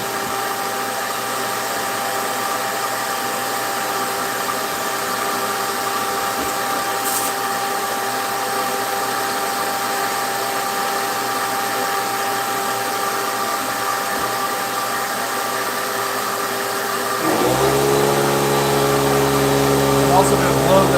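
Steady, loud machine whir of a power sander working a wooden box with 180 grit sandpaper, running continuously near the mic, with a brief shift in pitch and added rumble toward the end.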